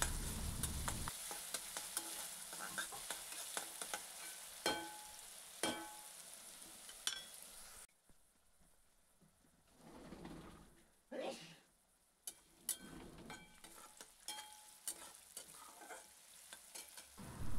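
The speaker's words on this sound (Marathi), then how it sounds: "इथे मी थोडंसं मीठ ॲड करणार आहे कारण की आपला कांदा लवकर भाजला जाईल म्हणून" Chopped onion fries with a little salt in a pan, a steady close sizzle that keeps going while a spoon stirs and scrapes at intervals. A voice speaks faintly now and then.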